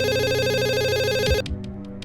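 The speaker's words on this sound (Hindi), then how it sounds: "किसका फोन है? सर, श्रुति शर्मा का फोन है।" A telephone at a police station rings with a repeated electronic trill, loud and close, then cuts off abruptly partway through, leaving a few faint knocks and room noise.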